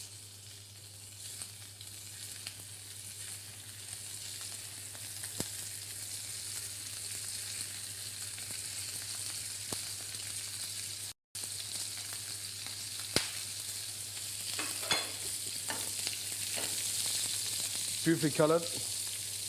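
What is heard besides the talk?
langoustines sautéing in olive oil in a non-stick pan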